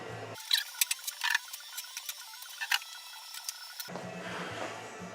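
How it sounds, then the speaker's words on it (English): Shelves being pulled out of a wine cooler, a run of small clicks, rattles and ticking metallic knocks, close and fairly quiet, with a short burst of broadband noise before and a rougher rustle at the end. "So we'll go ahead and pull the rest of these shelves out."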